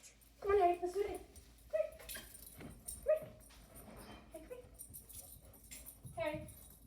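Harry the dog yips and whimpers in short excited bursts close by, mixed with a person talking to him.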